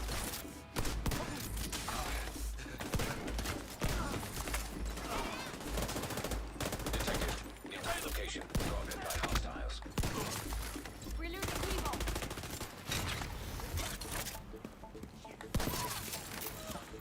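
Sustained automatic fire from an LMG in the video game The Division 2, dense rapid bursts of gunshots running nearly the whole time with occasional impacts and game effects, loud and close.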